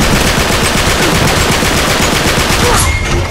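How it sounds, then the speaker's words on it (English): Sustained, loud AK-47 automatic gunfire in Uncharted 3 multiplayer, a rapid unbroken stream of shots running the whole stretch with no pauses. "unload a whole clip with your AK-47"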